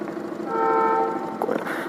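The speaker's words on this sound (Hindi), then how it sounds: "कोई तो एक ट्रेन यहाँ पे खड़ी है जो यहाँ से निकलने को तैयार है।" A train standing at Yog Nagari railway station in Rishikesh sounds a sustained tonal horn-like hum that rises for about a second amid station bustle, then fades into general ambience.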